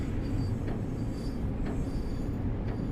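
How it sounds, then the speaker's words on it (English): Train in Train Sim World 6 pulling into Lynbrook station in beach weather with major wheel slip, a steady heavy rumble with faint recurring squeals and clanks, no voices over it. "Getting major wheel slip here, pulling into the station."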